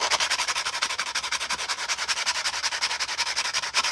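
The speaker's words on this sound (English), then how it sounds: "I just like to go back over where I cut and just sand that all" Cut edges of plastic clone armor being sanded by hand with 180 grit sandpaper after Dremel trimming, a close, rapid series of rhythmic scratchy back-and-forth strokes, continuous and even.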